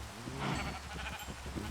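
Sheep bleating in a hardcore survival video game, a few short bleats at moderate level over a busy, steady background of game sound.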